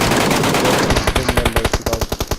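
Rapid MK14 fire in PUBG Mobile, a loud dense roar that breaks into a fast, evenly spaced string of sharp shots, close and prominent, with no talking.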